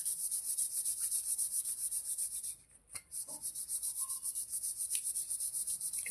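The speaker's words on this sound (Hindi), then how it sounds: "इसको अच्छे से आपको रब करना है, थोड़ी देर तक आपको रब करना पड़ेगा ये।" A hand rubs a wax strip with a steady, scratchy rhythmic friction that dips briefly in the middle before carrying on evenly, close and fairly quiet.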